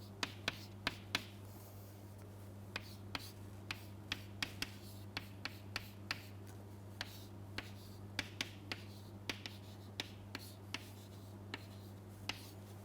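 Handwriting an equation during an electronic device fabrication lecture, a steady series of sharp, quiet taps and strokes at an irregular pace over a low constant hum, with no talking.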